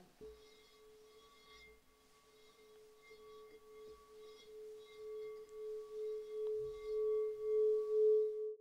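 A crystal alchemy singing bowl, Mother of Platinum with a violet flame on the rim, rings a sustained A note alone, a pure steady hum that swells into slow pulsing waves as it grows louder toward the end.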